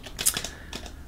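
A few quick keystrokes tap on a computer keyboard while a command is typed, close and crisp, in a brief run.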